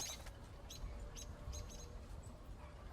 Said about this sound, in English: The moment the blue bird descended into its master's field of vision, it made its high-pitched call